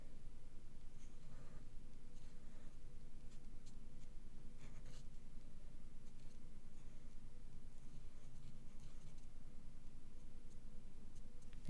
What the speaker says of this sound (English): So again, just draw around the lines.